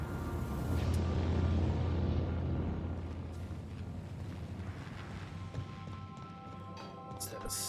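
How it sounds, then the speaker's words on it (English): A ship's engine in the video game The Outer Worlds hums as a low, steady drone under a windy, airy wash, with a few faint tonal blips toward the end. "Because there's the engine."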